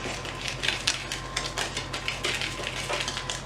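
Dry cupcake ingredients being mixed in a bowl for strawberry Pixy Stix cupcakes, a steady run of light scraping and clinking strokes against a low background hum.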